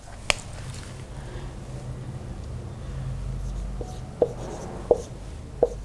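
Chalk tapping and scratching on a classroom board during a physics lesson, a sharp tick near the start and three more crisp taps toward the end over a low steady room hum.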